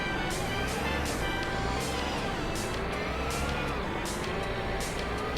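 Engine of an old car in the My Summer Car video game, a steady close drone with revving swells as the gearbox shifts up through the gears, no talking over it.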